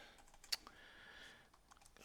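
Light clicking of keys being typed on a computer keyboard, a few faint scattered taps with one sharper keystroke, quiet and close.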